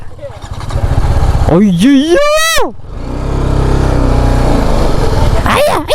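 An off-road dirt bike rides a rough, broken road in Ladakh. Its engine rumbles steadily close by while someone talks and cries out over it, with a sharp rising rev in the middle.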